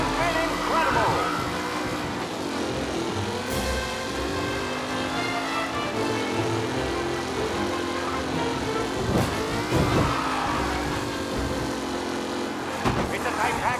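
Race cars in Mafia Definitive Edition roar past in a tight pack, engines revving and whining continuously with pitch sweeps as they accelerate and shift, loud and close throughout.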